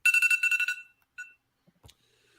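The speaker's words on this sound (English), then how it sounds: "That's my damn alarm" An alarm beeps in a rapid pulsing burst of about eight tones, then gives one short extra beep, and a few faint knocks follow.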